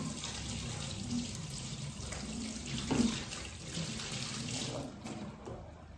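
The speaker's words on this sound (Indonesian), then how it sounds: "Cuci tangan." Hands washed under a running kitchen tap, a steady splashing stream of water with brief louder splashes as the hands move beneath it.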